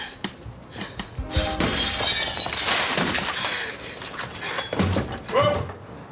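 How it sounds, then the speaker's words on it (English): A real glass window shattering during a TV drama stunt: a sharp crash followed by a long, loud spray of breaking glass and falling shards close by, with voices around it. "So she actually broke a real window"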